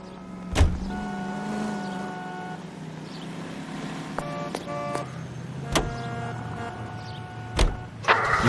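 A car driving in L.A. Noire, its engine a steady low drone throughout, broken by a few sharp thumps and short tonal honk-like bursts, with no talking.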